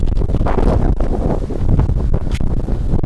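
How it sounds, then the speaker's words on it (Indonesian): Wind gusts buffet a prism-style tarp tent flysheet being pitched outdoors, a steady loud rumbling roar with flapping surges and rustle close to the microphone, no talking. "Ya, ini ada proses angin ya."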